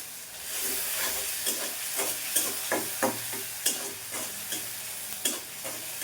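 Tangra fish cook in a pan with a constant sizzle, while a spatula stirs in repeated rhythmic scrapes and taps close by, with no voices.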